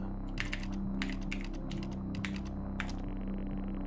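Keys clatter on a computer keyboard during the game Stories Untold, a close burst of irregular clicks and taps over a steady low electronic hum, with no talking.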